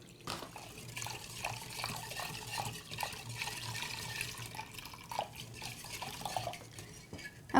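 Milk poured slowly into vanilla pudding mix in a bowl while it is stirred, soft liquid splashing and trickling alongside repeated light clinks and scrapes of a utensil against the bowl, steady and fairly close.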